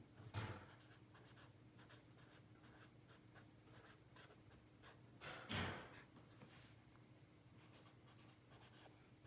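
Pencil writing on paper, a quiet close scratching made of many short strokes in bursts, with a couple of louder rustles or knocks partway through, faint against a low background hum.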